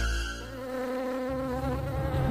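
A cartoon swarm of mosquitoes buzzes loudly and steadily, a dense whining drone with a lower hum joining partway through, close and continuous with no voices.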